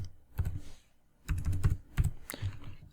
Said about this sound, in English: I'll type / type button, type my button text